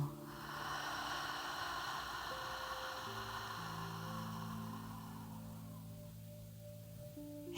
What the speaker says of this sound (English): begin with a deep inhale through the nose and exhale out the mouth